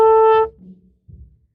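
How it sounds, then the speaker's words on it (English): A single trumpet note B, fingered with only the second valve, sounds loud and steady for under half a second before cutting off, leaving faint low room noise. "For B, you press on only the second valve, and it should look like this, and it should also sound like this."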